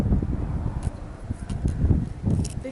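Strong wind gusting outdoors at Carhenge, buffeting the microphone with a steady low rumble that swells and eases in irregular gusts, with faint rustling throughout and no talk.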